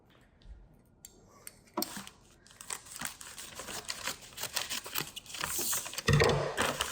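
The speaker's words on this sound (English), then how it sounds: "So here's the package. We're gonna cut it open" A package being cut open by hand, close crinkling and rustling of packaging with sharp tearing and snipping bursts that grow busier and louder toward the end.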